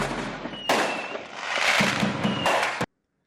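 A recorded fireworks sound bite plays loud, dense crackling and bursting with sharp onsets and a brief fading lull, then cuts off abruptly into silence.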